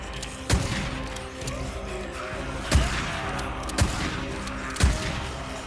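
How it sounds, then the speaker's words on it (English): Four sharp gunshots from a video game, spaced a second or two apart over a low steady background rumble, each loud crack standing out clearly without talk. "I'll shoot him in the back."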